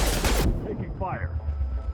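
Loud, dense gunfire from a Mass Effect 2 firefight erupts for about half a second, then cuts off, leaving a low rumble and a faint voice beneath.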